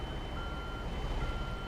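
A truck's reversing beeper in the American Truck Simulator video game, a steady high electronic tone over a continuous low engine rumble.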